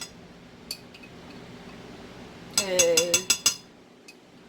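A heaping teaspoon scoops thick caramel sauce from a jar, giving a quick cluster of bright metallic clinks against the glass over about a second, close and moderately loud, with a voice briefly counting before it.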